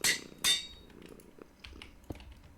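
A cat purrs quietly up close in a low, steady rumble, after a couple of sharp clinks at the start.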